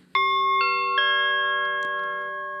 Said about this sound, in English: I had downloaded a chime actually from Pixabay a while back, so we'll just load that up here